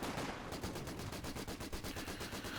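Rapid, steady bursts of support machine gun fire from Company of Heroes 2 rattle loudly and continuously, blended with other battlefield gunfire and no talking.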